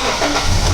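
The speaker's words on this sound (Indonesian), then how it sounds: "Sekarang saya akan nyalakan mesin." A Toyota Kijang Innova car engine turns over and settles into a steady, loud idle, with a low rumble that runs continuously and close by through the whole moment.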